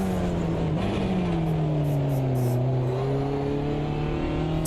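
Classic Porsche in a sim racing game, its engine droning steadily as revs dip and climb again through corners, loud and continuous without talk.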